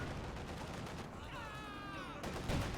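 Gunfire crackles in Company of Heroes 2 during a 1v1 tournament match, with steady dense battle noise throughout and a whistling tone rising and falling in the middle before a louder burst near the end.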